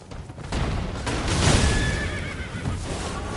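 A horse neighs in the video game Elden Ring, a loud, drawn-out whinny that swells near the middle and then trails off, with no one talking.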